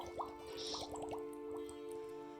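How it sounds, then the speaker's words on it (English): A potion bubbles softly in a fantasy tabletop setting, with a string of faint, quick liquid plops and drips popping over a steady low hum. "I changed the potion bubble sound"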